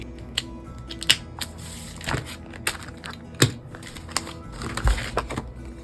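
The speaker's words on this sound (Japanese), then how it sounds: "ここのホチキスは慎重に取ろうかな" Staples being carefully pried out of a large sticker package, giving a run of small, sharp metallic clicks and crinkling paper taps, close and fairly quiet, with no voice.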